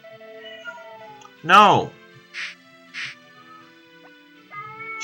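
A cat in heat gives one loud, drawn-out meow wanting out of the room, amid steady game music, with a person's voice speaking briefly.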